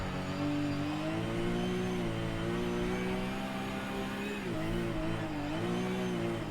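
A car's engine in Forza revs and whines steadily through a mountain drift, the pitch dipping and rising again as it shifts, loud and continuous with no voices.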